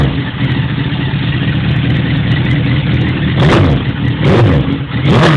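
Suzuki GSX-R 1000 sport bike with a custom Yoshimura RS3 exhaust holding a deep, loud idle up close, then blipped three times in short throttle bursts that swell and drop back to the rumble.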